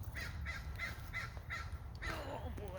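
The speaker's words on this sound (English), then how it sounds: "Here's my crow." A crow caws in a garden, giving five evenly spaced, moderately distant caws and then a rougher, wavering call over a low background hum.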